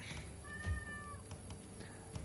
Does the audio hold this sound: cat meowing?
yes